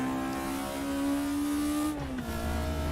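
A front-wheel-drive race car on the TT Circuit Assen in RaceRoom Racing Experience revs steadily higher with a droning, rising engine note, then its pitch drops sharply as it shifts, a continuous loud engine with no talk.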